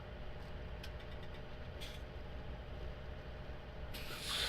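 A small tractor in Farming Simulator idles steadily with a low, even engine drone and light hissing on top, close and unbroken, with no talk.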